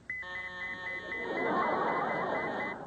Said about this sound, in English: Whenever it detects a large amount of fat, an alarm goes off.